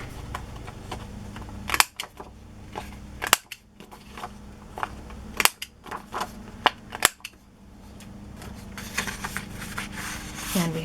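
A corner punch rounds the corners of a journaling card for a fabric covered journal, giving a few sharp separate clicks and snaps spaced over several seconds against quiet room tone, with soft handling rustle toward the end.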